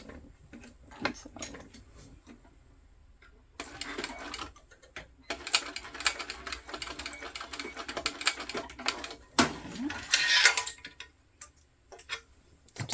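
A sewing machine runs stitches along the very edge of a tote bag beside a metal D-ring, in several bursts of rapid mechanical ticking with short pauses between runs, close and fairly quiet.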